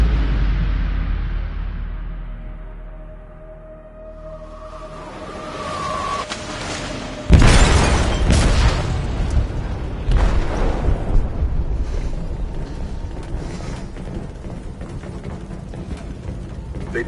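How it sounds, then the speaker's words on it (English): Explosive detonated in a ship's hold in Detroit: Become Human, a sudden heavy boom after a quieter swelling rumble and whine, followed by a long roaring, crackling aftermath. "They detonated an explosive in the hold."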